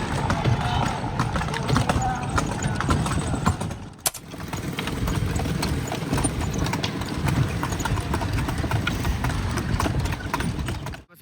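A horse-drawn carriage near the Taj Mahal clip-clops steadily along, hooves knocking in a continuous rhythm under dense crowd noise and nearby chatter, with a faint idling engine mixed in.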